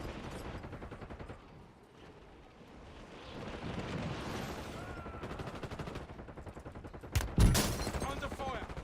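Rapid game gunfire bursts in Call of Duty: Black Ops 6, dense bursts under ongoing speech and effects, with a sharp loud blast near the end.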